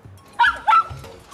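A toy robot dog gives two short, loud electronic bark-like yelps in quick succession, its tone synthetic and warbling, over faint background noise with a brief low murmur afterward.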